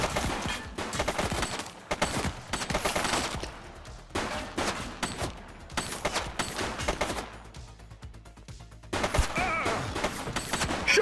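Heavy gunfire in the police video game The Precinct, dense automatic bursts and rapid shots crashing loudly and continuously, broken by a few brief pauses, with no talking.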